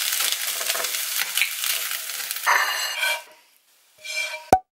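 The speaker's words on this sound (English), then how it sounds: "beef, rice and vegetables fried in some egg" Beef, rice and vegetables frying with egg in a pan, a loud scraping, sizzling stir for a few seconds, a short pause, then a brief sizzle and a sharp clack.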